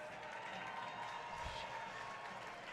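Ice hockey arena crowd giving a faint, brief pity cheer and scattered applause at a college game, heard distantly and lasting only a couple of seconds.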